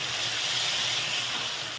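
Fish pieces for a Lahori masala fish fry dropped into hot oil, setting off a loud, continuous close sizzle and hiss that holds steady before cutting off abruptly, with no talking.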